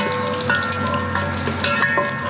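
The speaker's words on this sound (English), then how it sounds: "to pan fry our ginger and garlic" Chopped ginger and garlic sizzle steadily in hot oil in a pan, a loud, continuous crackling fry with small pops throughout.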